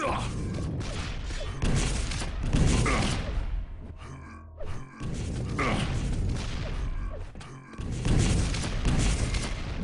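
Rocket explosions and weapon fire in a competitive Quake match, dense and loud. Heavy blasts and grunts run almost without pause, with brief dips between the bursts.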